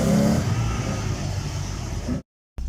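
A Mazda MX5 with a 2 litre 16 valve engine revs hard on a slippery autotest run, a steady loud engine drone that falls briefly silent near the end before resuming.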